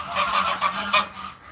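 A goose honks repeatedly up close, a run of loud, harsh calls with a sharper blast near the end, and no talking over it.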